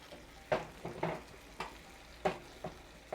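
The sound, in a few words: white wine sizzling and reducing in a hot pan with shrimp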